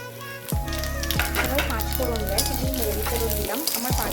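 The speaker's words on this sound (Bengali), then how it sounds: "কড়াই গরম করে সর্ষের তেল দিয়েছি গরম হওয়ার জন্য ফোড়নটা দিয়ে দিচ্ছি" Steady crackling sizzle of whole spices frying in hot mustard oil in a kadai, with brief stirring clatters and a strong low hum throughout; no voices.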